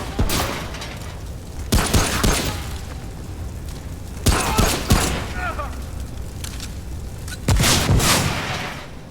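Loud, booming shotgun blasts firing fire rounds in the video game Remnant, four heavy shots spaced a couple of seconds apart, each with a crackling tail, over a low background.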